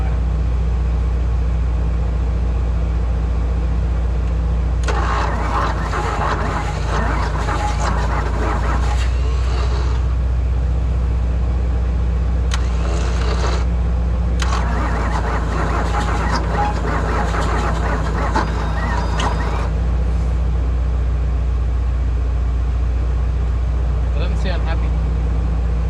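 Starter motor cranks an old Valiant 225 slant six engine in labored bursts, struggling and clunking over several long stretches, with a steady low hum underneath and pauses between attempts.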